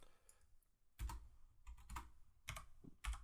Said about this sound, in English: Don't mind the keyboard